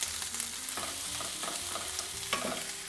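Tofu and mushrooms seasoned with thyme, sage and ground fennel frying in a pan while being stirred, a steady close sizzle broken by scraping stirs.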